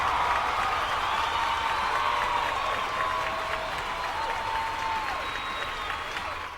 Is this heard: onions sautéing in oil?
no